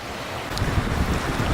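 Floodwaters of the Mississippi River rush steadily past, a continuous broadband wash with wind buffeting the microphone, loud and close throughout with no voices.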